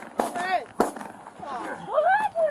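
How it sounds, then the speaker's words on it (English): A deputy fires gunshots during a struggle, sharp cracks coming in quick succession amid loud shouting voices. "3 shots."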